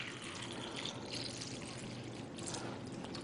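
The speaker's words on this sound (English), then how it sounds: "we're just going to simulate that by pouring some tap water in here" Tap water poured from a container into a vessel makes a steady, close splashing pour that runs through the whole moment with no pauses.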